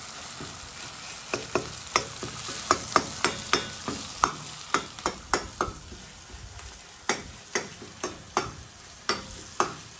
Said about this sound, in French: essayer de bien roussir avec les oignons